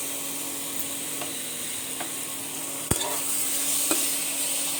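Sour mangoes fry in hot oil in a home kitchen pan, a steady close sizzle broken by a few sharp scraping clicks of a spatula stirring them.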